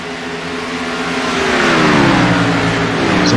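Race cars roaring past at Atlanta Motor Speedway, a loud engine rising in pitch as the cars approach and accelerate, sustained and close with no talk.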